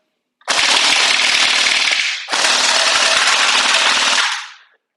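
Two long, loud full-auto bursts from an Anstoy M4A1 Strikeface airsoft rifle, each roughly two seconds of rapid, even popping with a brief gap between them, close to the listener.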